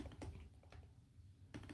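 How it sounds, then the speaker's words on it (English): Typing on a computer keyboard, faint and close, with scattered key clicks and brief bursts separated by pauses, no talking over it. "So I'll just have to type it out for us"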